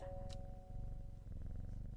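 A cat purrs in the video game Strange Horticulture, a soft continuous low rumbling purr with a faint steady tone and one brief click, no talk.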